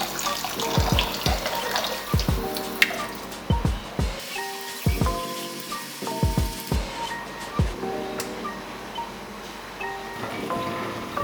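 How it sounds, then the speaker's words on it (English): Liquid draining from fried rice in a strainer over a sink, with a continuous trickling water sound under repeated sharp knocks and clinks of the strainer, close and fairly loud, no speech. "You're going to take your rice, put it into a strainer, and get as much of that excess liquid out as possible."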